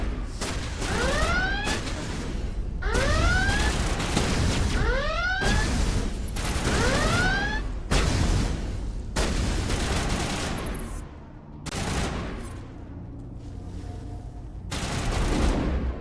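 Rapid bursts of gunfire from weapons shooting at plants in a video game, loud and repeated in volleys with brief pauses, falling to a quieter stretch near the end before firing picks up again.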